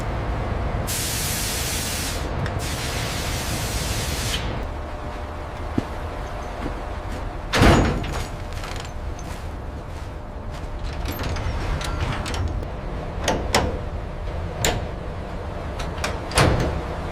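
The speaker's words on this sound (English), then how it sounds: "Heavy doors close automatically" Heavy automatic doors in a crew passage of the Titanic: a loud hiss for a few seconds, then a heavy thud and scattered metallic clanks echoing in an enclosed space.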